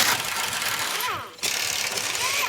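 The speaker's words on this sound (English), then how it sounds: "We just gotta bust the bolts off." Impact wrench or ratchet busting bolts off a car in a shop, a loud dense mechanical rattle and whir that briefly drops out before resuming at full volume.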